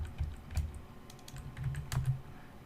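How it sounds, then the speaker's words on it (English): Fingers tap a computer keyboard in uneven bursts, with a handful of distinct keystrokes and short pauses between clusters, close and fairly crisp in a quiet room while someone codes. "I'm looking at my other screen while I'm typing this"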